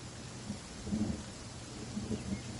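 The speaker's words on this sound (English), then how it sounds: "You came back just in time to enjoy the thunder and lightning" Thunder rumbling through a rainy storm in Genshin Impact's Sumeru region, with low rolling booms around one and two seconds over a steady wash of rain, fairly faint and distant.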